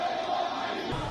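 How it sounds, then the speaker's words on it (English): A crowd in Abadan, Iran, gathered at a building collapse site shouts down a speaker, a dense, continuous roar of many voices yelling together without pause. "The moment he started speaking, the crowd shouted him down"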